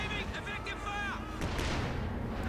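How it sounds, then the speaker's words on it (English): Artillery fire booms in the Company of Heroes 2 strategy game, with heavy low rumbling blasts rolling under a game commentator's voice throughout. "There you go, we got artillery in"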